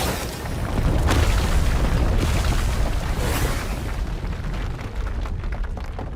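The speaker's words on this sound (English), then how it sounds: "The walls explode, and the wedding hall is destroyed." Walls blasting apart in a wedding hall in the Love & DeepSpace video game, a deep rumbling boom swelling into a sustained roar of debris and crumbling, loud and close, then slowly fading, with no talking.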